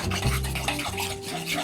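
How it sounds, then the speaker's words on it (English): A spoon scrapes and swirls through a thick powdered sugar frosting mixture in a bowl, a short, dense rubbing sound, close and steady with no talk. "Keep stirring"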